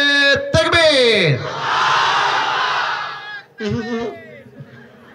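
A large crowd of married men at an Islamic waz gathering roars the takbir in unison, one long sustained loud shout following a preacher's call, then his voice resumes over the fading crowd.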